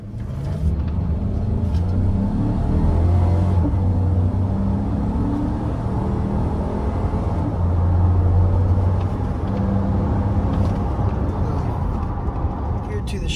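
2019 GM 1500 pickup truck accelerating hard on an open road, a loud sustained engine rumble with rising and falling tones heard from inside the cab, continuous with road noise and someone talking over it.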